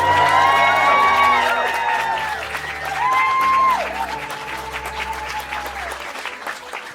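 Wedding guests cheer and applaud in a hall, with a sustained wash of clapping and whoops under tonal music or singing that swells and fades over seven seconds.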